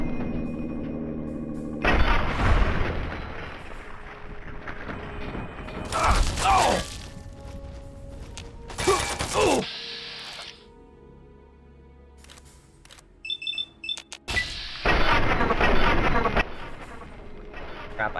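Gunfire in the video game Fallout 3: several loud, broadband bursts of shots and mechanical clatter, separated by quieter stretches of game ambience.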